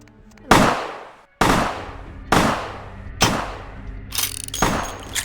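Gunshots ring out in the video game Vampire: The Masquerade - Bloodlines: five loud, sharp reports spaced about a second apart, each trailing a short echoing decay, with a clattering burst between the last two.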